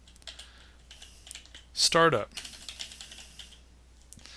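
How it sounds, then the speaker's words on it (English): Keys clack on a computer keyboard as a command is entered at a command line, with a quick, dense burst of typing in the middle while a voice speaks briefly nearby. "I'm going to type from the keyboard on the command line"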